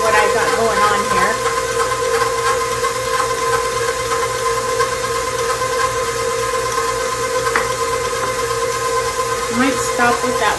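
A stand mixer churns whey bread dough as a fourth cup of flour goes in, a steady motor hum with rhythmic knocking throughout.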